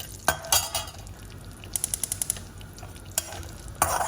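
Cumin seeds dropped into hot ghee with asafoetida crackle and sizzle as a spoon stirs the pan, with sharp clinks of the spoon against the metal and short bursts of spitting, close and fairly loud, with no talking.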